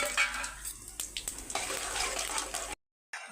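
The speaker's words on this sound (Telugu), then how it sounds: "అదే ఆయిల్లోకి మనము జీలకర్ర, ఆవాలు, శనగపప్పును కూడా వేసేసుకుందామండి." Cumin, mustard seeds and chana dal frying in hot oil, a steady bright sizzle with a few sharp pops and crackles, cutting off abruptly before a brief return.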